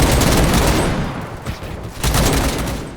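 Sustained burst of Vickers machine-gun fire in the WWI shooter Over The Top, loud and continuous with dense overlapping shots, a brief dip in the middle before the firing surges again.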